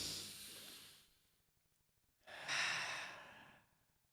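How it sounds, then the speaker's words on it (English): Two slow, deep breaths close to the microphone, a long exhale fading out, a short pause, then a full inhale and a long sighing release, with no talking. "Can we take a deep breath together first?"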